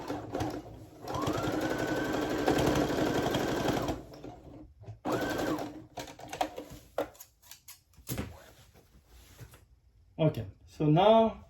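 Sewing machine stitching to take in plaid men's pants, running in a steady continuous burst for about three seconds, then a shorter run, followed by scattered handling clicks. Brief talk comes in near the end.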